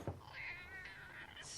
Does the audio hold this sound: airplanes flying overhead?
no